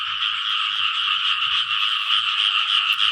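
A dense, continuous chorus of frogs croaks steadily and loudly beside a flooded rice field, with no talking over the calls.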